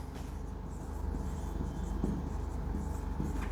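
Chalk or marker scratches across a board during an excretory system lecture, a steady run of close, scraping strokes with no talk over it.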